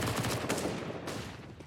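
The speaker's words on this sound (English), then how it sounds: "It's a beautiful, colorful explosion of an MP9." MP9 submachine gun firing in a CS:GO esports match, a dense continuous burst of rapid automatic shots, loud and busy throughout.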